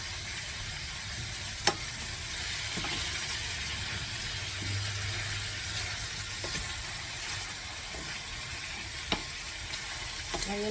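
Chicken livers frying in a pan, a steady close sizzle with light stirring and a few sharp clinks of utensils, no voices.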